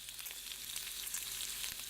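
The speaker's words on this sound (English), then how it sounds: "Look so at those sizzles" Bacon strips sizzle and crackle in a hot frying pan at breakfast, a dense bright hiss with scattered pops heard up close at moderate level and no talking.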